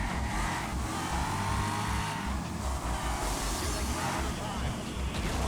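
Super trucks racing in the video game Wreckfest: a loud, continuous engine drone with rhythmic revving and shifting pulses, close and steady, under a voice talking.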